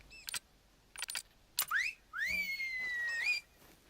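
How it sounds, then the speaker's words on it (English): A loud rising-and-falling wolf whistle in the hunting game The Hunter: Call of the Wild, set in a Peruvian jungle reserve, preceded by several short sharp clicks and chirps, clear and close with no speech. "Making loud wolf whistles in the middle of the jungle when you're trying to be quiet."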